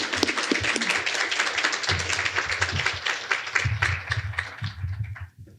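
Audience applause welcoming guests to a panel on California's global trade strategy, a steady wash of clapping that stays fairly loud throughout and thins out and fades near the end.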